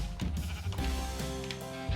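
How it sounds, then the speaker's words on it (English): Sheep in Minecraft bleat in a wavering tone over game sounds, with a couple of clicks and thumps. "A sheep!"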